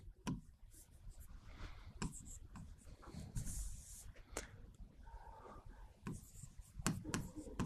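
A pen or chalk scratches out notes during a history lesson on Sultanate art, a quiet run of irregular strokes and taps close by, with faint room noise and no talking.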